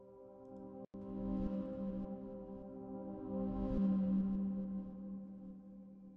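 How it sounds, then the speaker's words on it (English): A reversed piano sample, a single C note from a felt-dampened Una Corda library pitched down, swelling in sustained tonal layers that rise and bloom toward the middle, with a brief dropout near the start. "Then I've got this reverse piano."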